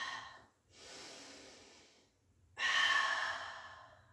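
Audible breathing during a pilates mat exercise: a soft breath, a pause, then a stronger, louder exhale that gradually fades, close to the mic with no talking.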